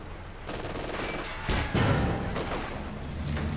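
Machine gun fire in Company of Heroes 2, a steady rattle of rapid shots under battle noise, punctuated by a heavy burst of fire midway, close and fairly loud.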